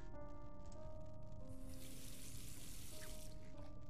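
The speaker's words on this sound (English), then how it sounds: "Running water." Water runs steadily from a basin tap with a copper drain in The Last Door, a continuous close hiss and splash holding evenly throughout, with faint tonal ambience underneath.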